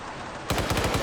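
Rapid gunfire in Arma 3 bursts in after a brief lull, a quick string of about six punchy shots rattling close and loud.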